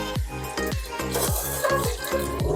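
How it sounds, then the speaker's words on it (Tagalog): Bitter gourd (ampalaya) frying in a pan, with a steady sizzle under a regular rhythm of utensil strokes scraping and stirring, close and fairly loud, with no talking. "Ipiprito muna natin."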